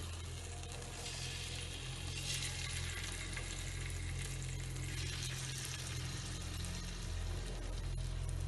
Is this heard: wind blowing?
no